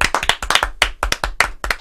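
A crowd claps for Mark Ronson in a burst of dense, sharp applause that stays loud and close through the moment.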